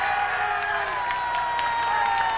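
A roadside crowd in Italy cheers and shouts steadily for cyclist Gianni Bugno as he sets off on a 1994 Giro d'Italia time trial, a dense continuous roar with whistles cutting through.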